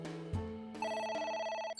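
A phone rings in the video game AI: The Somnium Files, a steady electronic ringing with bright layered tones that starts after a brief low thud and continues loudly with no talk.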